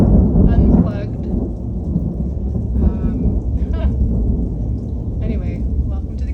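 A thunderstorm over Kootenay Lake: steady rain hiss and low rumbling thunder rolling continuously near the listener, with a heavier crack at the start and a few faint higher sounds scattered through.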